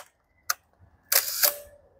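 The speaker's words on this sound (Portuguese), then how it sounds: "Esse barulhinho basicamente é o obturador, ele fica aberto." An SLR camera's mechanical shutter set to a faster speed, with a sharp small click followed by a louder, quicker clack pair, crisp and close in a quiet room with no voices.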